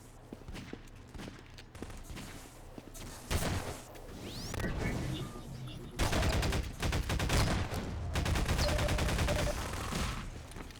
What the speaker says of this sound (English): just takes him out with the shotgun right up close